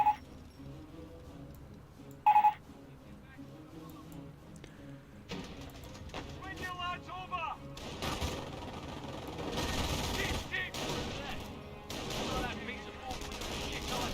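Gunfire in Company of Heroes, a World War II strategy game, with bolt-action rifle shots striking tank traps: sharp isolated cracks at first, then dense overlapping bursts of rifle and machine-gun fire that build into a sustained battle din.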